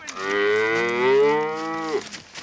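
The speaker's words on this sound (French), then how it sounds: "Faites-y la vache" A single long, loud cow moo sounds close and alone, rising and then falling away over about two seconds.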